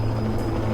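Rescue helicopter hovering near a mountain slope, a loud continuous rotor and engine roar with a steady low throb filling the whole moment, no voices.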